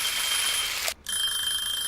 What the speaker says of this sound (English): the timer to ring